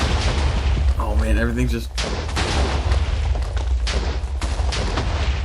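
Loud blasts and rumbling booms tear through a bomb shelter in a block-building video game, sustained and dense across the whole stretch, with a brief spoken exclamation partway through.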